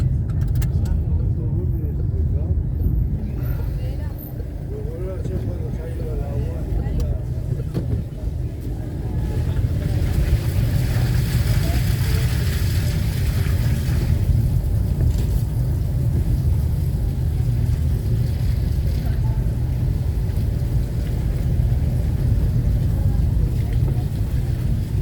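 A car pushes through deep flood water in the streets of Valencia, a constant loud rush of churning water and engine rumble with excited voices shouting over it.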